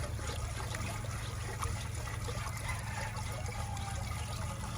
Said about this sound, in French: c'est de l'eau simplement qu'on est en train d'ajouter